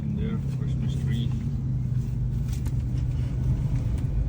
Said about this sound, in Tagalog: we're stuck in traffic